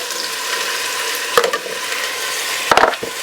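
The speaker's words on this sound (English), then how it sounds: "we're going to brown this beef" Beef browns in a pan for a Mexican beef stew, giving a steady loud sizzle broken by two brief bursts of stirring or scraping clatter; no voices.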